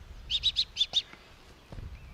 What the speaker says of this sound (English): That's this bird.